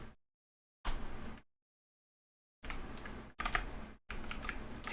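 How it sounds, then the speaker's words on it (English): Keys clatter on a computer keyboard in several short bursts of quick typing separated by dead silence, close and fairly loud. "It's not really a keyboard stroke as much as it is you typing something specific."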